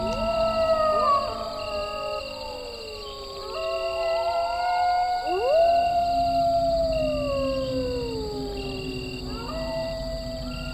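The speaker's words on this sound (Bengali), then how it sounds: "একপাল শিয়াল চিৎকার করে উঠল" A pack of jackals howling at night as an audio drama effect, several long wavering, overlapping howls rising and falling together over a steady background hum.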